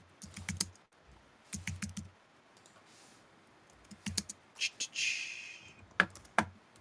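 Typing on a computer keyboard comes in several quick bursts of close, crisp key clicks separated by short pauses, with a few sharper isolated taps near the end and no talk.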